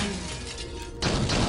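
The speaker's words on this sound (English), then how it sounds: "You hear that glass breaking?" Glass shatters in the video game Might and Magic 9, a loud, dense crash of breaking shards that bursts in suddenly partway through and keeps ringing over a busy game background.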